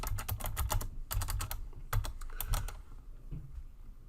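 Fingers typing on a computer keyboard while writing web page style code, quick bursts of close clacking keystrokes separated by short pauses, with no speech.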